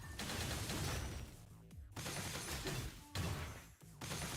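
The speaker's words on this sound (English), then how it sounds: "This uses a rifle with a bayonet. Gun sword." Rifle-with-bayonet gun-sword attacks in the video game Punishing: Gray Raven, a dense run of loud, crunchy blasts and slashing impacts, with brief gaps between bursts.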